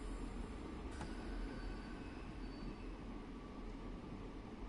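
A train in the video game Train Sim World creeps slowly into a station, a low steady rumble with faint mechanical whine, continuous and even throughout.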